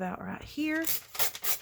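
Coffee-dyed parchment paper is torn by hand in a few short, crisp, papery rips close to the microphone, mixed in with a woman's speech.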